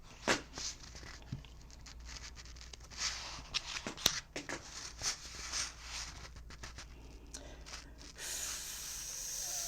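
Tarot cards shuffled for a full moon reading, a crisp patter of riffling and flicking card sounds in irregular bursts, close and fairly quiet, ending in a steady hiss.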